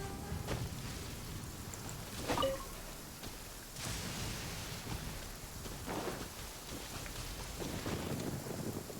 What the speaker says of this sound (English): Oh, wait, it's just thunder and lightning.